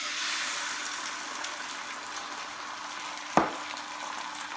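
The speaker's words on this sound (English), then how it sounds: "I've got a hot pan, I fry lighted, and I've just whisked up a couple of eggs with some seasoning." Whisked, seasoned eggs sizzling in a hot pan for a plain omelette, a steady close frying crackle with one brief knock or scrape partway through.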